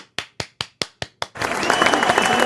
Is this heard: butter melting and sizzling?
no